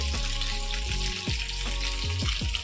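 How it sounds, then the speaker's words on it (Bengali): Loud, continuous sizzling of sliced pointed gourd frying in a hot pan, with occasional scraping clatter of a utensil. "পটল ভাজাটা বসিয়ে দিয়েছি"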